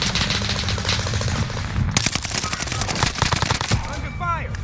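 Rapid automatic gunfire rattles in the Warzone video game, dense bursts of shots close and loud throughout, with faint game voice chatter underneath.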